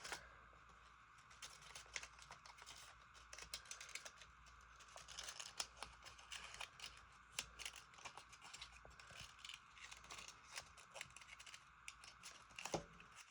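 Scissors snip through paper being cut into a foldable box shape, giving steady crisp clicks and rustles at close range, soft and continuous with no voices.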